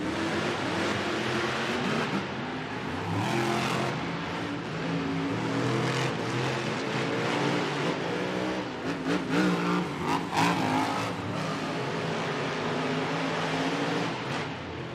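Two Monster Jam monster trucks race head-to-head at an arena event in Tacoma, Washington, their engines roaring loud and continuous with revving surges throughout and no talk.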